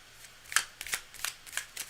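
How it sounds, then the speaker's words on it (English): Tarot cards shuffled close up during a live reading, a handful of crisp, quick riffling flutters spaced unevenly over a couple of seconds, fairly quiet, with no talking. "I'm going to shuffle for a few more moments"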